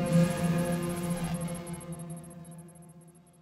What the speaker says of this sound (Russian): Киты — удивительные певцы водных просторов.